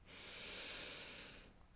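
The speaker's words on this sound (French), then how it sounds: "Et puis vous inspirez" A person takes one long, deep inhale during a sophrology breathing exercise, a close, steady airy hiss that swells and fades over about a second and a half.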